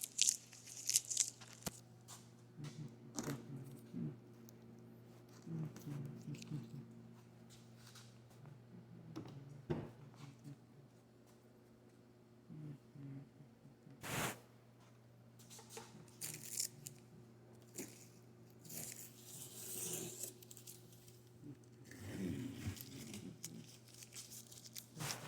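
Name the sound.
peeling tape off a Chevy Cruze door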